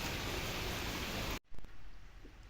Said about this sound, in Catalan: Com podeu veure, continua plovent.